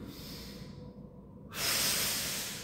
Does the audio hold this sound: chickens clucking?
no